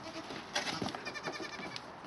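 A young goat kid bleats, a short wavering cry lasting over a second at moderate distance, with no talking over it.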